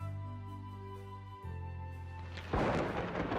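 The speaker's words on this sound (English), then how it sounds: "One day, a terrible stormy night filled with lightning and thunder struck the kingdom." A thunderclap breaks out on a stormy night, a sudden loud rumbling crash that follows a low steady tone of background music and carries on to the end.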